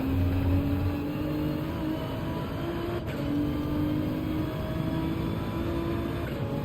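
A race car engine in Gran Turismo 7 at Road Atlanta screams at high revs and holds near the limiter with a buzzing, sustained drone, loud and up close, with slight pitch dips and no voices.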